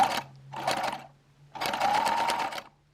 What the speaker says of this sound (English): I'm going to give the machine stitching a go